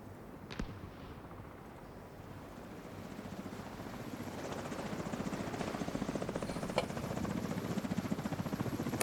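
A video-game helicopter thrums steadily with fast rotor chop, growing gradually louder and closer, with brief thuds near the start.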